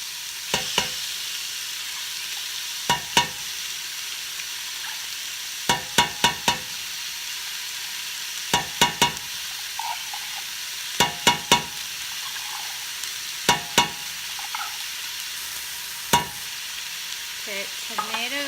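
Vegetables and tomato paste sizzle and fry in a pot, making a steady hiss, while a spoon scrapes and stirs in repeated clusters of sharp knocks every few seconds.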